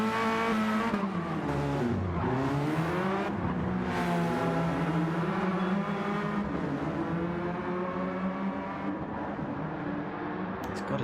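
A race car drifts at Laguna Seca, its engine revving hard and rising and falling in pitch as the tires squeal and skid continuously, loud and close, with no voices over it.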